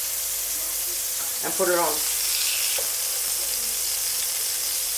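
Battered fritz fry in hot oil with a loud, continuous bright sizzle that holds steady throughout, while a voice speaks briefly over it.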